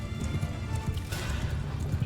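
Cavalry horses galloping into battle in the medieval game Mount and Blade II Bannerlord, a dense, continuous drumming of hooves with clatter and crashes mixed in, steady and fairly close throughout.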